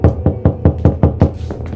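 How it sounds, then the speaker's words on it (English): Knocking on a front door on a stormy afternoon: a quick, evenly spaced series of about eight loud, close raps, alone without any voices. "a knock was heard at the front door"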